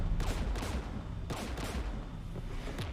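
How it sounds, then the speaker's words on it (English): Sustained gunfire from a Mass Effect battle against Geth forces, a dense stream of rapid shots and bursts that runs steadily at moderate loudness with no talking over it. "We're taking fire"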